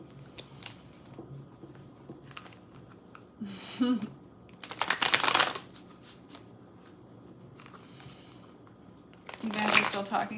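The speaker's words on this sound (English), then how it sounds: "Let's draw from this deck." Tarot deck shuffled during a live reading, riffling bursts of cards arriving in quick papery flurries, a couple of louder near shuffles amid quiet room noise.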